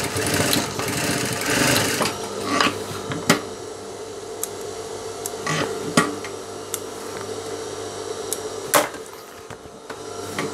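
A sewing machine stitching a hem on a pocket, a steady mechanical whir running throughout with sharp clicks and knocks breaking in at irregular moments.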